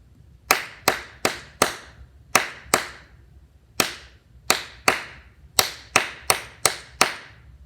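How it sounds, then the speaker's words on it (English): Sharp handclaps tapping out a rhythm in an aural skills lesson, irregular groups of crisp claps with short pauses, close and alone. "Let's clap it"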